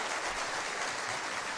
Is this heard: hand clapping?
yes